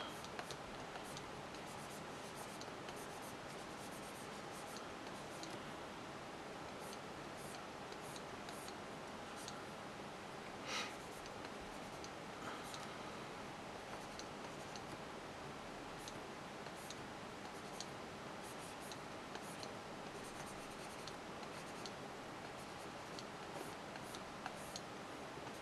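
A stylus sketches on the smooth screen of an Artisul D10 graphics tablet monitor, giving faint, steady scratchy ticks with a few brief louder taps. Quiet and close, with no talking.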